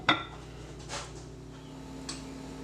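A lid is set onto a jar of homemade sauerkraut: a sharp clink at the start, then a softer scrape and a small tap, faint and close in a quiet kitchen.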